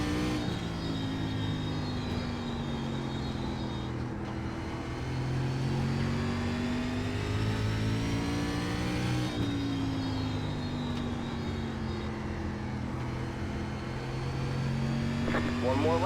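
SRX race car engine in iRacing at 5 Flags Speedway, droning steadily at high revs through a qualifying lap with rising and falling pitch as it shifts and corners, with a voice talking over it.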